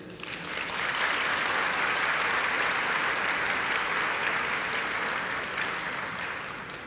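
Audience applause fills a commencement ceremony honoring graduates of physician assistant, social work and public health programs, a steady, dense wash of clapping that swells within the first second, holds evenly for several seconds, then begins to ease.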